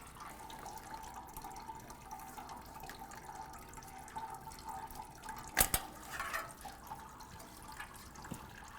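Coolant drains from a 2012-2016 Subaru Impreza radiator into a collection bucket as a faint, steady trickle, with a brief louder clunk partway through.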